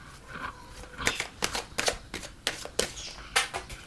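Tarot cards handled and drawn from a deck, a series of quick, crisp flicks and slaps in an irregular rhythm, close up with no talking.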